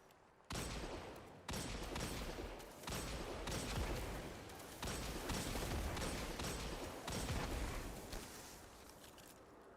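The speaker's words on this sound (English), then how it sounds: "I love how explodey the Fatebringer is. Explosive rounds and explodes on headshots." Explosive rounds from the Fatebringer in the video game Destiny, a dense and continuous barrage of loud blasts and bursts that keeps going with no let-up.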